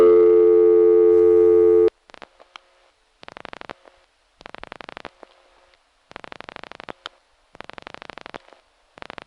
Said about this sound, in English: Here's the vacant level in Congers.